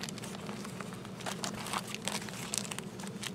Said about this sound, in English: So this is one of the silver emergency blankets.